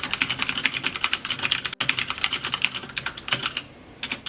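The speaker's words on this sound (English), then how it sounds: "it is the HyperX Alloy FPS Pro 10 keyless mechanical gaming keyboard" Rapid, continuous clacking of a HyperX Alloy FPS Pro tenkeyless mechanical gaming keyboard with loud keys, close and dense, with a brief pause midway and a slight thinning near the end.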